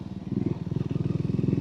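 A Triumph Scrambler 400X motorcycle rides through London, its engine giving a loud, close, rapid, pulsing thrum with a steady beat.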